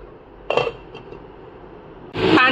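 A metal lid clanks onto a pot of boiling chow mein on the stove, a sharp clatter followed by a second louder scrape and clink as it settles.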